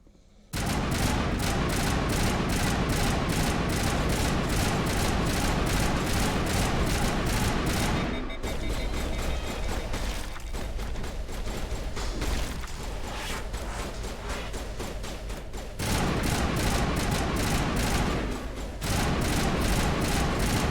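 Sustained rapid gunfire in the video game Mass Effect 1, loud bursts of automatic shots rattling almost continuously, with short pauses between volleys.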